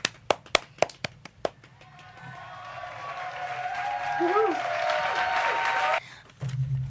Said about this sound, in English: let's give a clap to both of these boys